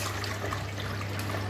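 A toilet flush in a home bathroom, steady rushing water running continuously and fairly loud, with a faint hum underneath and no talking.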